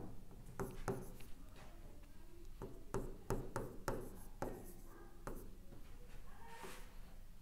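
Chalk or marker writing on a classroom board during a chemistry lesson, a series of quiet scratching and tapping strokes in an irregular rhythm, faint and close, with no talk over it.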